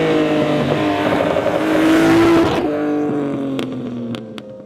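A Nissan L-series inline six-cylinder engine on Weber carburetors revs up to a rising peak, then drops back to a lower rumble with a few sharp pops or clicks near the end, loud and nearby.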